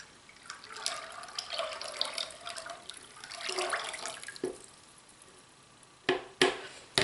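Melted homemade coconut oil liquid soap is poured gently from a container, giving a soft continuous liquid trickle and splash for several seconds, followed by a few sharper knocks and splashes near the end; no one speaks.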